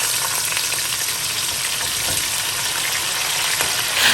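Beef pieces fry in a pot for a beef and cabbage stew, a loud, dense sizzle and crackle of hot oil that runs steadily throughout.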